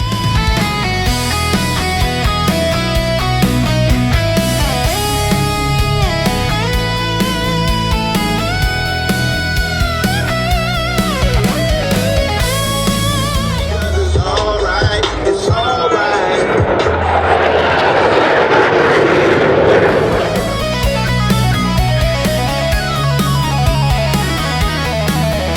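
Blue Angels F-18 jets roar past at an air show, a loud sustained engine rumble that swells into a broad rushing blast mid-pass, mixed with music and crowd background.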